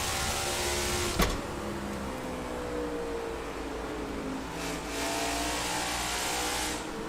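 Stock cars race on the Phoenix track in NASCAR 22, a steady loud engine roar with cars droning past, a brief sharp click near the start, and no speech.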